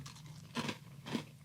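Dry cinnamon apple tie-in cereal pieces crunched in the mouth: two distinct crisp crunching bites close to the microphone, quiet overall, with no speech.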